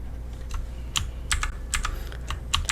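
Keys clack on a computer keyboard while the Ctrl key is held during a Blender 2.8 modeling session, giving a quick run of close, crisp taps over a steady low hum.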